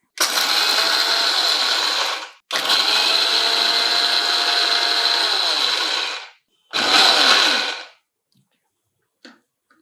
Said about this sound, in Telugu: వేయించిన పల్లీలు పొట్టు తీసేసి ఒక్కసారి గ్రైండ్ చేయండి.